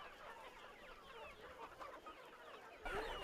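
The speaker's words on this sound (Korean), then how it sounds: "지금 여기 닭이 몇 마리인데 어느 정도 양을 먹나요?" Chickens on a poultry farm housing about 6,000 birds make faint, scattered clucks and murmurs against a soft barn hum, with a louder shuffle near the end.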